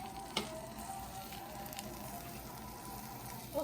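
Banana pancake batter sizzling in a hot pan, a soft, steady crackling fry, with a small pop near the start and another near the end.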